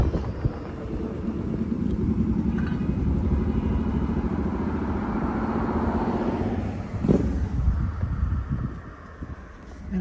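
A motorcycle passes outside the gates of the Mar-a-Lago estate in Florida, its engine rising and falling steadily over about ten seconds with wind rumble on the mic and a brief thump late on.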